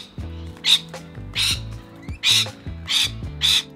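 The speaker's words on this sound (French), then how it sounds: "on sort de la maison et on voit des perroquets voler dans le jardin" Parrots squawk loudly in a quiet garden in Clayton, Australia, five harsh, evenly spaced calls over a faint low background hum.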